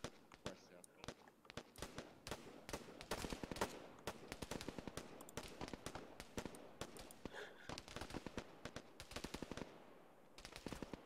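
Rapid bursts of automatic gunfire in ARMA 3 crackle through the whole stretch, dense volleys and single sharp shots overlapping at mid distance, with scattered voices underneath.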